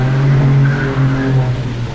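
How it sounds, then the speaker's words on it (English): Car racing with tires skidding outside a window, a steady droning engine-like tone with a sustained squealing quality running loud and continuous throughout. "It's like someone racing their car outside our window."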